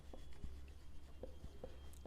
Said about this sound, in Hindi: चलिए लिख देते हैं